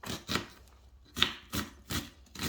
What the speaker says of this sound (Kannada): ನಾನು 1 ಆನಿಯನ್ ತೊಗೊಂಡಿದ್ದೀನಿ. ಇದನ್ನು ಚಿಕ್ಕದಾಗಿ ಸಣ್ಣದಾಗಿ ಕಟ್ ಮಾಡಿ ಇಟ್ಕೊಳ್ಳೋಣ